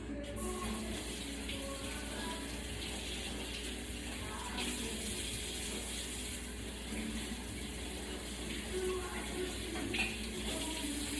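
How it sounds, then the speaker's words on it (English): Tap water runs steadily into a kitchen sink while leeks are rinsed clean of dirt, a continuous close splashing wash with small clinks and knocks throughout, no voices. "washing out our leaks just to get all the remainder of the dirts out of there"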